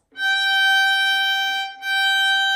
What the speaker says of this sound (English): This is G natural, not the high G sharp.